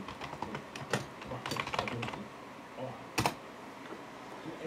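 Someone types on a computer keyboard in quick, uneven bursts of close clicky keystrokes, a short pause, then a final cluster of taps.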